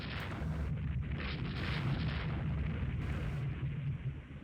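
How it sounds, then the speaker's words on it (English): Heavy naval guns fire in Rule the Waves 2, with dense rumbling booms and crackling bursts packed tightly together, loud and continuous through the whole stretch. "Taking some fire. Heavy guns as well as medium and light."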